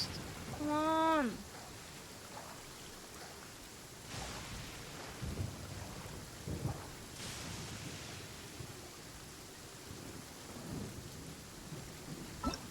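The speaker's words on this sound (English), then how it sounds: "Is there more lightning than in Inazuma?" Thunderstorm ambience in the video game Genshin Impact: steady rain hiss with low rolling thunder rumbles and a few louder cracks spread across the scene, a brief rising chime near the start.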